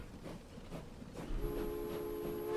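A train from the video game Transport Fever 2 rumbles along steadily, and a sustained horn-like tone sounds partway through over the rolling noise, with no talking.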